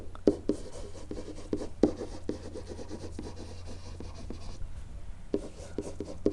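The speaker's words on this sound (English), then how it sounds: "And I'm just going to write right over the words." A pen scratches across a surface while writing over a graph of secant and cosecant, a string of short rubbing strokes with sharp little taps, close and quiet, pausing briefly before the scribbling resumes.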